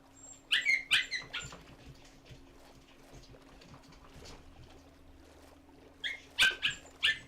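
Puppies at dinner time let out bursts of high, squeaky yips and barks, two clusters a few seconds apart, fairly close with quiet in between.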